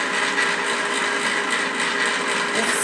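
An inexpensive ice cream maker churns custard in its chill chamber with a steady, loud mechanical whir and grind, close by and unbroken, with no voices over it.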